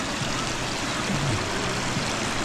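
A river beside a shallow pool at a campground flows with a steady, close rushing and trickling of water, with no talking.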